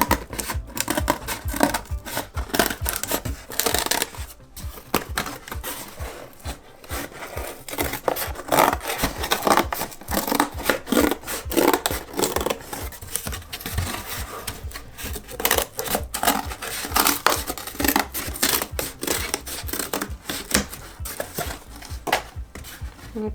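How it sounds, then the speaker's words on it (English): Scissors snip and scrape steadily through paper to cut out a semicircle for a homemade puppet theatre, close and continuous with dense crisp crunches and rustles and no talking. "You're going to put your scissors into the middle of the semicircle."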